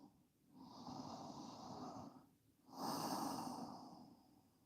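Slow breaths drawn through the nose while holding a yoga pose, two long airy exhales separated by a brief pause, close and soft.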